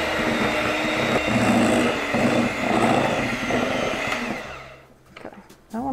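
An electric mixer beats flour into cookie dough for a vintage Betty Crocker recipe, droning steadily close by and slowing in pitch, then cutting out near the end with a few clunks.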